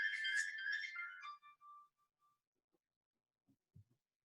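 A mobile phone ringtone plays a bright, melodic electronic phrase for about a second, then trails off in a few fading notes, followed by quiet and a couple of soft knocks in an otherwise silent room.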